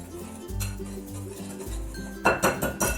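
Dry ingredients for gluten-free vegan chocolate donuts are stirred in a bowl, giving soft scraping and low thumps, then a quick series of bright metallic clinks of a utensil striking the bowl near the end, close and with no talking.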